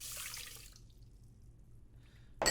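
Water pours briefly into a Zojirushi rice cooker bowl holding rice, a short, close hiss that stops within a second and leaves near silence before a small clatter at the end.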